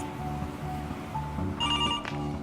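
A telephone ringback tone sounds as an automated assistant calls a restaurant to book a reservation, a few repeated electronic rings heard faintly over a low background hum.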